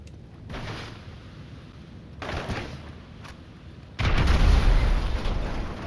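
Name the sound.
grenade explosions in the video game GTA 5 Online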